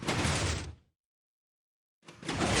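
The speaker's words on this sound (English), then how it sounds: "But it opens again." Piston door in Minecraft opening again, two bursts of broadband mechanical noise split by a second of complete silence, each fairly loud and close.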